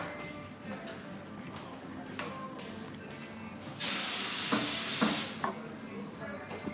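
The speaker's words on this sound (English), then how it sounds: "Careful of that steam." Steam hisses loudly at Huai Kwang market in Bangkok, a sudden broad rush lasting about a second and a half over busy market noise with faint voices.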